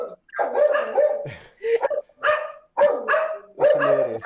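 A dog barks loudly and close at the postman, giving a series of sharp, strained barks in uneven bursts with short pauses, with no voices over them.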